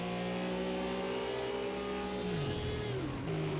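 GT3 race cars in the video game Project CARS 2 at Laguna Seca, engines screaming at high revs as they pass, pitch bending down through gear changes and a Doppler drop, loud and continuous.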